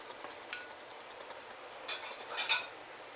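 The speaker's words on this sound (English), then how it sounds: "I'm using a ladle and a spoon to remove them" A ladle and a spoon clink faintly against each other and the dish while lifting Riesling-poached pears out of their sauce: a few light taps spaced through a quiet stretch, with a small cluster near the end.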